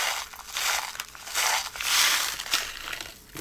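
Small beads poured by hand into a little glass bottle, giving a sustained rattling, crinkly cascade that swells and fades in several waves, close and fairly quiet with no talking.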